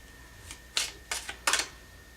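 A tarot card slid out from the deck, a few short, crisp papery flicks and snaps close up, in quick succession over about a second, with no talk.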